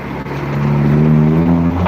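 A car arriving, its engine humming steadily and swelling slightly louder as it nears, close by, with no talking.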